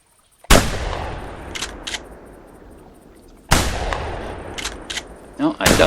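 Two loud, sharp shotgun blasts fired at ducks in theHunter, each booming close by and trailing off into a long echo across the bayou, with brief clicks and rustles between the shots.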